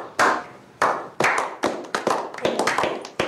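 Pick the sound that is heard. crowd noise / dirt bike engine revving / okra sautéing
crowd noise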